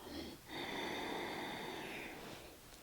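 A slow, deep inhale through the nose during a bedtime relaxation yoga session with a foam roller and pillows, one long steady airy draw lasting about two seconds, close and soft.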